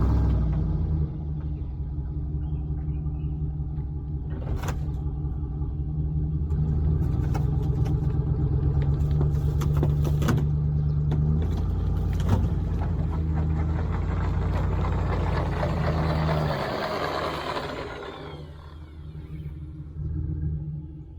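Old Case 450 dozer engine running steadily with a loud, deep, continuous rumble, revving slightly louder midway, then dropping off near the end; no talk.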